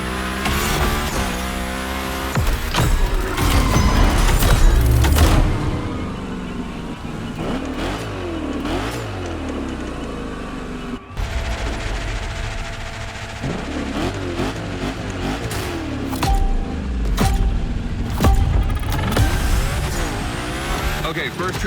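A V8 Mustang Hoonigan gymkhana car in The Crew Motorfest revs hard and drifts, with loud engine roar, rapid throttle blips and tire squeal throughout, and a voice talking over the action.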